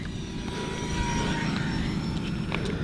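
An E-flite Micro B-2 Stealth Bomber RC plane flies outdoors with a steady, thin electric whine and a faint buzz at moderate distance, while wind noise rumbles underneath.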